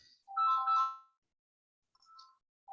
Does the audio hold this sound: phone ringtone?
yes